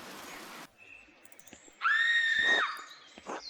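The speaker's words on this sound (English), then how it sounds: "I think those screams were coming from the chapter house" A shrill, drawn-out scream from Pentiment, one sustained piercing cry after a short burst of noise, followed by a shorter fainter wail near the end.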